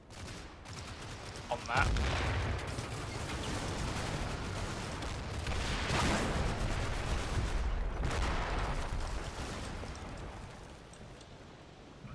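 Mortar fire from a mortar team booms repeatedly in the distance, under a continuous roar of wind or gunfire-like noise, with a voice speaking briefly over it.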